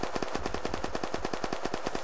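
Cobra gun in Unturned firing a sustained automatic burst, rapid evenly spaced shots at a steady fast rhythm, loud and close, no talking.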